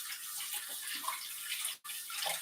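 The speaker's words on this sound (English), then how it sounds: "let me wash my hands real quick" Hands being washed under a running tap, a steady hiss of flowing water broken by one short cut-off, splashing faintly and evenly through the few seconds, no voices.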